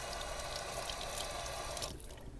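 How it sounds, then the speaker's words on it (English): A shower valve cartridge is rinsed under running water from a tap, a soft steady splashing stream that cuts off near the end, faint and close. "Give it a rinse off"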